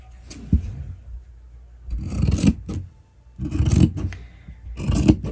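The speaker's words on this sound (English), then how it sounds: "this scissor I'm cutting right now, it's the best" Straight-cut scissors slice through fabric in three short bursts of crisp snipping and rasping, close up and moderately loud, with quiet pauses between the cuts.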